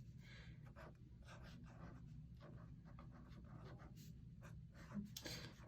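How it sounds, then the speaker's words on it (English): A pen writes a name on a paper budget-by-paycheck workbook, giving faint, close scratchy strokes in short irregular bursts against quiet room noise. "I'm going to go ahead and write my name on here really quickly"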